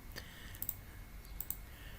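A computer mouse double-clicks twice, each a pair of quick, crisp, close clicks spaced about a second apart over a faint steady room hiss.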